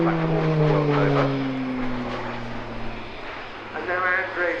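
A Slovenian Pilatus PC-9M with a single 950 shp Pratt & Whitney Canada PT-6A turboprop flies a display, its loud propeller drone sliding down in pitch as it passes, while a commentator talks throughout.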